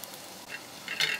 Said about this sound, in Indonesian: Enaknya ngeliatnya ya, digoreng, suara juga nyaring.